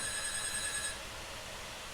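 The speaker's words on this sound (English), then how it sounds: "there's a phone ringing" A telephone rings faintly in the background, an electronic trilling tone repeating for about a second before stopping, leaving quiet room hiss.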